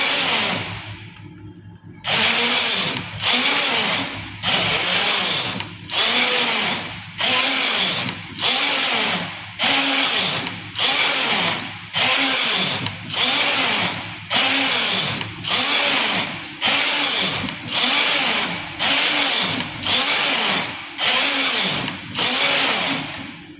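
A knitting machine carriage knitting rows, a loud rhythmic whirring sweep repeated about twenty times at a steady pace, each pass separated by a short pause, with no talking.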